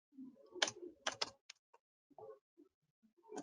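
A handful of computer keyboard keystrokes, sharp and close, in two quick bursts of clicks followed by sparse lighter taps and soft low thumps, quiet overall with no talking.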